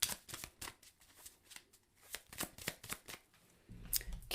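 A Lenormand fortune-telling deck is shuffled by hand in a quiet room, a series of crisp riffling card flicks in irregular bursts, close and fairly soft, with no talking.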